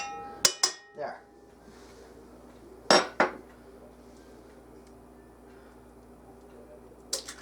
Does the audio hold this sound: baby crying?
no